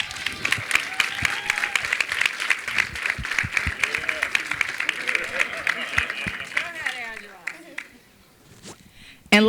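A live audience applauds and cheers at a Snowfall Season 2 cast Q&A in Philadelphia as cast members are introduced, a dense, steady wash of clapping and whoops that sits loud and close, thinning out near the end.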